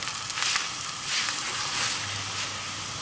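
A cauliflower paratha sizzles in ghee on a hot pan just after flipping, a steady close crackling hiss that swells and eases slightly, with no one talking.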